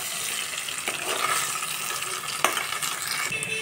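Taro (chama gadda) pieces sizzle steadily in a hot pan while a spoon stirs and turns them, giving a dense, continuous frying hiss broken by occasional scraping clicks, close up with no talking.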